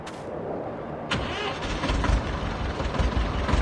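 A tractor engine in Farming Simulator 22 on an old Polish farm turns over and settles into a steady, rumbling idle, loud and close, with no talking.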